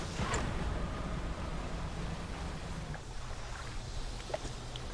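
Boat engines run in a video game as a steady, low rumbling drone with a windy, rushing wash over it, continuous throughout and fairly quiet.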